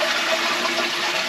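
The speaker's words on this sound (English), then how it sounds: "When you flush the toilet, you can also wash your hands here." A Japanese washlet toilet flushing while its top hand-wash tap refills, giving a steady, close rushing hiss of running water with no break and no talk.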